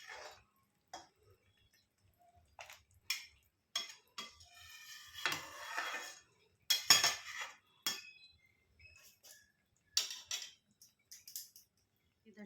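Metal spoon scraping and clinking against a cooking pot of simmering UP-style kadhi, in irregular bursts of stirring spread across the clip, fairly close and clear, with no talk.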